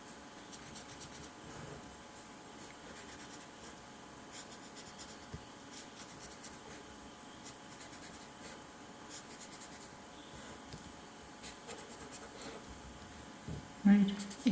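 Marker or chalk strokes rub across a board while resistances are drawn, light scratchy lines repeating steadily at close range over faint room noise.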